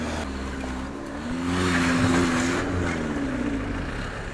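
Engines of vehicles stuck in a traffic jam in Shimla rumble nearby, a loud steady idle with one car revving up and easing off in the middle, no voices.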